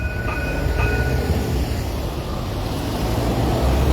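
A tram on an urban tramway rolls past in a steady, close rumble with faint rail clatter and brief high squeals near the start, with no talk.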